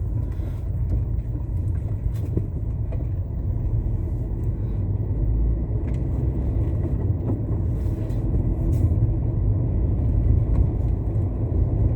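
A car drives along a road with only the driver aboard, giving a constant low engine and road rumble from inside the cabin for the full stretch, without talk.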